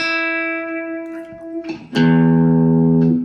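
Guitar sounds a sustained E note, a brief scrape and pause, then a fresh strong note rings out and holds.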